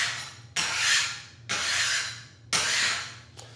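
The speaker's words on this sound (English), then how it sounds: "this is a concrete scraper" A concrete scraper rasps across a concrete floor, lifting leftover carpet glue in three long, loud, gritty strokes with short pauses between them, close up and with no talking.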